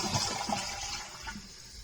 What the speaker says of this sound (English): Time to flush.